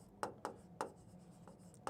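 A pen scratches out handwritten notes in short quick strokes, about six soft taps and scrapes close by in a quiet room.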